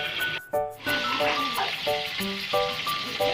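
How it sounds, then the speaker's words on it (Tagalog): Hot oil spatters and crackles in a frying pan as Filipino-style ulam cooks, a steady close sizzle with sharp pops, plus a loud burst of splattering near the start; a voice is heard faintly in the background. "malayo lang tayo yan guys dahil tumalsik yung mantika"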